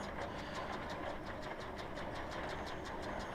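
A tractor engine drones steadily in Farming Simulator 17, a continuous mid-loud rumble with a faint regular ticking pulse and no speech over it.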